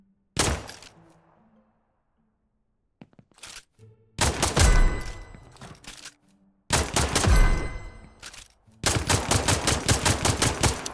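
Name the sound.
gunfire from the video game Nuclear Epoch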